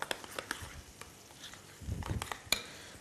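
Chopped parsley being stirred into egg and mashed potato in a bowl, giving soft scraping, patting strokes of a utensil in an irregular rhythm with a brief louder clatter near the end.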